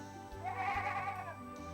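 Goats on a farm give a single wavering bleat, faint and somewhat distant, against a quiet background.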